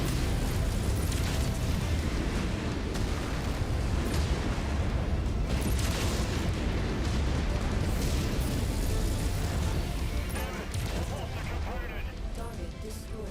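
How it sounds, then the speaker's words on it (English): Dense, continuous roaring blasts and booming impacts from a missile volley in the mech combat game MechWarrior 5: Mercenaries, loud and relentless throughout with no clear gaps. "Hey, that's not a fair missile volley."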